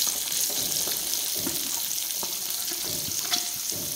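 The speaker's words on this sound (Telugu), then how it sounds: "ఇప్పుడు ఇదే ఆయిల్లో 3 ఉల్లిపాయలను తరిగి వేస్తున్నా" Three chopped onions sizzle and fry in the same hot oil used for eggs, a close, steady crackling hiss with occasional soft stirring knocks and splashes, no talking.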